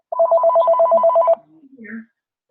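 A telephone bell rings in a rapid, even trill for over a second, loud and close in a home kitchen during a cooking class, then stops and faint voices and clatter follow.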